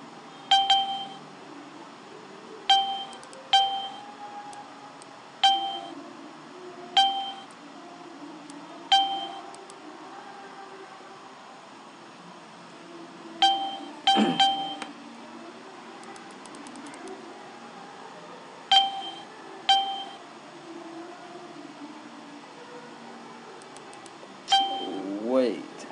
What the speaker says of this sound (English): I have turned on the notification to wake you up. The ping ping sound.